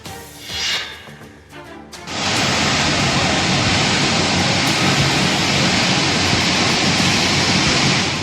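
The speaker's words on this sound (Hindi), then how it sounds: "हथनीकुंड बैराज के मुहाने पर दहाड़ मारता पानी एक बार फिर दिल्ली के रास्ते पर है।" Water released at the mouth of Hathnikund Barrage in Haryana roars loudly as a steady, dense broadband rush that starts abruptly after about two seconds of quieter sound and then holds unbroken and close.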